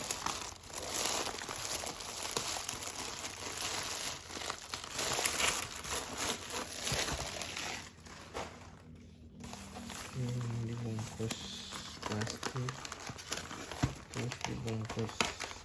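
Paper wrapping and bubble wrap crinkle and tear as a parcel of books is unwrapped. The rustling runs continuously and fairly loud at close range, with brief quieter moments and some handling thuds.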